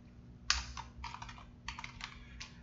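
Keys clatter on a computer keyboard in short uneven bursts with a sharp first stroke, close and clear, as text is typed into an Arduino serial monitor.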